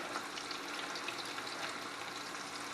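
Fresh-caught crappie fillets fry in a pan with a steady, even sizzle, a dense hiss held at moderate level with no talking.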